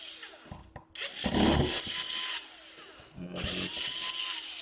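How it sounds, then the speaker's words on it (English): A power screwdriver whirs in bursts while backing out the screws on a Dell Inspiron 15 5000 series P51F laptop, with short pauses between runs and a voice briefly counting. "And we unscrew everything on the top."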